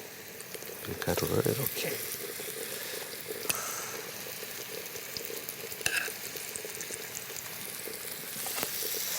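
Meat sizzles and fries steadily in a hot pan, a continuous crackling hiss with a few sharper pops, while people talk over it.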